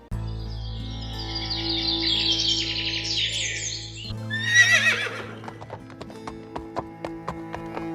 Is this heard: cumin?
no